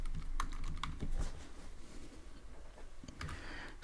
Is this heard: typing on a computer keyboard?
yes